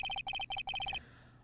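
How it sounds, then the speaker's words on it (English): Phone ringtone from the video game Phoenix Wright: Ace Attorney, a bright electronic melody of rapid repeated beeping tones in short bursts that stops after about a second, clear and alone. "I know that song your phone plays when it rings."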